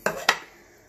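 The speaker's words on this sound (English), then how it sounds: "pop the lid on once again, making sure that seal is in there with that little ridge thing" A plastic blender lid being fitted onto the jar with its rubber seal, giving two quick close clicks and knocks about a quarter second apart, the second sharper, followed by quiet.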